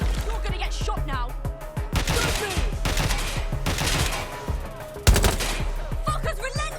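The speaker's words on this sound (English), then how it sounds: "I'm being shot at." Rapid bursts of gunfire aimed at the player in the Watch Dogs video game, loud and close, with repeated shots in volleys and a heavier blast near the end, while someone talks over it.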